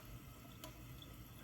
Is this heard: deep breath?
no